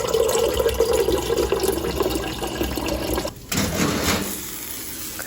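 Water running steadily into a bottle being refilled, a continuous splashing fill that briefly cuts off near the middle and then resumes with a brighter, rising gurgle.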